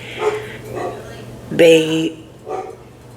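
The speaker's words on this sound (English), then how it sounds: "I apologize if y'all hear my dog barking in the background. She's a German Shepherd." A female German Shepherd barks once in the background, a short, fairly loud burst in the middle of the clip while a person talks over it.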